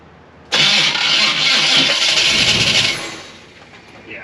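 A car engine cranks steadily for about two and a half seconds without catching because its fuel pump has failed, then the loud starter whir fades out.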